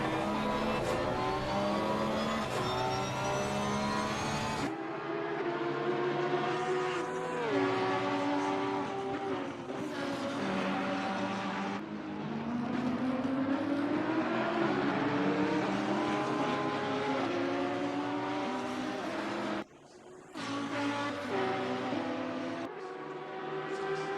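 Race car engine heard from the cockpit at Spa-Francorchamps in a sim racing game, loud and continuous, climbing through the revs with abrupt gear-change drops and one brief cut near the end.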